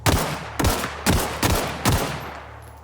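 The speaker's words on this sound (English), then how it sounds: "3 bullets to the head should suffice." Rapid gunfire from the video game The Outer Worlds: five sharp, loud shots in a steady rhythm about half a second apart, each with a short decaying tail, no talk over them.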